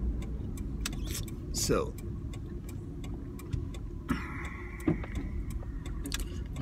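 A truck being driven slowly and parked outside a post office, a low, steady engine rumble with ticking clicks and a brief whine, while someone talks over it.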